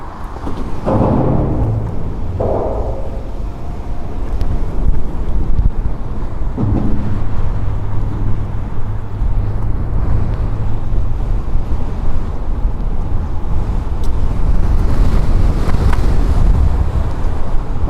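Steady wind buffets the microphone on a trail during a first ride on an ET Max, a continuous low rumble that stays loud throughout with a few brief thumps near the start.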